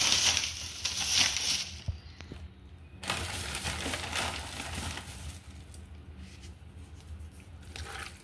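Raw beef pieces for Peshawari beef are mixed with salt by hand, giving wet squishing and squelching sounds in irregular bursts, close and moderately loud, with brief quieter pauses between handfuls.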